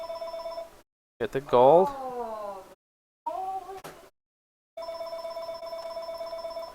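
A telephone rings in repeated steady electronic trills during a Minecraft Direwolf20 modded let's play, broken by short gaps, with a voice speaking briefly over the middle.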